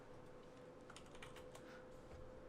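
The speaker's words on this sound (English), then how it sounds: "I hear you typing" Computer keyboard typing, a run of quick light clicks at moderate distance over a steady background hum, with no talking.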